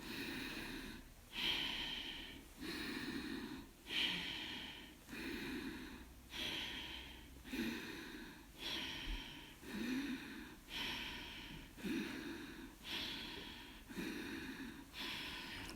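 Forceful yogic exhalations during an adapted yoga session, about a dozen sharp, rhythmic breaths pushed out roughly every 1.3 seconds, close and clear with no talking.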